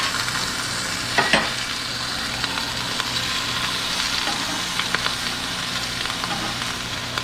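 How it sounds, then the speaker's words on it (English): Back bacon frying in a pan, a dense, steady sizzle with crackling spits throughout and one brief knock early on, close and fairly loud, no speech. "I bet this back bacon is getting color. It's spitting all over the place."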